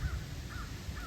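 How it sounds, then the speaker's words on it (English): Several crows caw from tree branches in a backyard, sounding as two or three harsh calls spaced about half a second apart, moderately loud over a low rumble of wind or background noise. "I guess that's a murder of crows."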